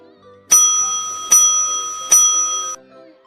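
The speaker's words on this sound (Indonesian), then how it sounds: "Bel tanda istirahat pun berbunyi." School bell ringing for break time, three bright metallic rings in quick succession, each struck sharply and left to ring on with a lingering tone, loud and close.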